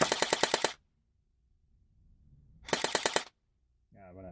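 A CYMA CM125 USP-replica airsoft pistol with an Eagle6 M75 spring and stock battery firing full auto, two short rapid buzzing bursts of about six shots each, close and loud, separated by quiet, then a brief voice at the end.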